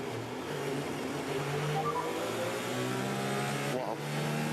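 A Mercedes Formula 1 car at the Singapore Grand Prix street circuit during practice, its engine droning steadily at mid distance with rising and shifting pitch as it passes, no voices.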